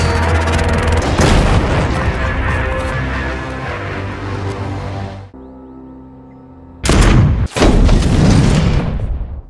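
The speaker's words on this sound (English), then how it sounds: "After they attain a niche high enough, they get into their sniper positions and shoot the cloakers." Gunfire in a film sequence of snipers shooting, heavy booming blasts that fill the first half, then a brief quieter lull before two more loud explosive bursts close by.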